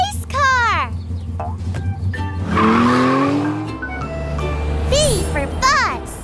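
A cartoon race car zooms by fast with rising and falling engine whines, swooping pitch sweeps and a skid-like squeal over playful background music, with chirpy character voices speaking throughout.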